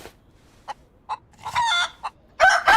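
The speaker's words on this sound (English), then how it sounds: "Someone blast that chicken!" A chicken in the DayZ video game on the Chernarus map, clucking and squawking close and loud in short bursts, building to a harsh crowing cry at the end.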